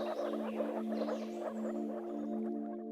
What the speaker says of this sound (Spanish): Esta es la rana de los páramos, Rana arvalis, la rana con la capacidad de cambiar de color más singular del mundo animal